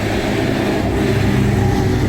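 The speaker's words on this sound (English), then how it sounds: "We've got a tractor coming." A tractor engine rumbles near the Kelpies in Scotland, a steady low drone that grows slightly louder as it approaches, with no talking.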